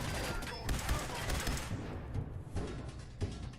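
Gunfire in the video game Fallout, with a weapon modded for burning fire damage: a dense burst of shots and thuds in the first second and a half, then a few scattered louder blasts over a steady game background.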